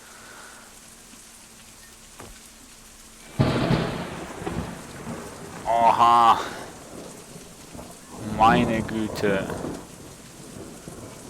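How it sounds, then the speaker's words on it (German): Heavy rain and rolling thunder from a thunderstorm in the survival game Out of Reach, a steady downpour with loud thunder bursts building in waves, while a man exclaims over it. "Das gewittert hier draußen aber extrem"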